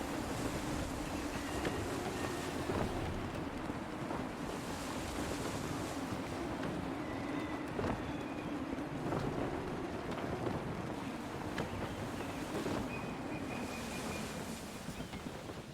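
Gusty wind rushes steadily around a sailing ship in Assassin's Creed III, a constant broad roar with surging waves and faint creaks and thumps running underneath throughout.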